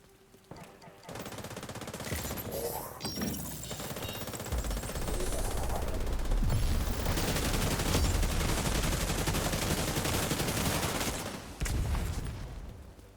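Sustained rapid automatic weapon fire from a video game, loud and dense, with a continuous rattling barrage that runs for over ten seconds after a brief opening burst, no voice heard.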